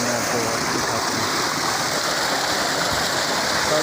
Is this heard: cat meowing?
no